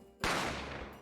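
A single sharp gunshot from the game The Great Ace Attorney Chronicles cracks out suddenly, followed by a short decaying ring that fades over the next second.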